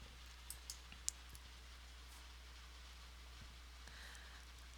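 A few faint, sharp computer mouse clicks, isolated and spaced irregularly, over a steady low electrical hum in a quiet room.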